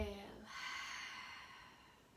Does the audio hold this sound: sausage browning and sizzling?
no